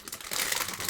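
Plastic bags crinkle and crumple as they are opened, a dense, close rustle that swells after a soft start and runs through the whole short moment with no voices.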